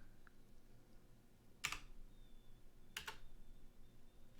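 Typing on a computer keyboard: two brief clustered bursts of key clicks, quiet and close, separated by a pause over a faint low background hum, with no talk.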